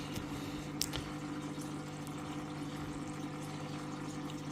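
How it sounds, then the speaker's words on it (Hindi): Water filling a tank through a taped pipe, a steady rushing flow with a constant low pump hum, close and unbroken. "तो धीरे धीरे पानी भरने दीजिए"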